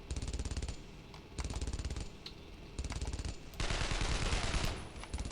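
An StG 44 assault rifle fires in long rattling automatic bursts in Brothers in Arms: Road to Hill 30, four loud sustained volleys separated by brief pauses, the last the longest.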